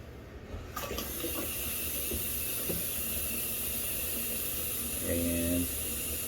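Water splashing and running steadily over a Sunblesa headlamp during a waterproof test, a continuous hiss with a few drips and knocks, joined near the end by a brief gurgling burst.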